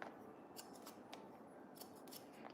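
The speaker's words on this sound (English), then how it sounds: "that's why I'm using these scissors in those parts where she have more density" Hair scissors snip through a client's short hair while cutting and thinning dense areas, several crisp, quiet close-up clicks in irregular clusters over a soft background hush.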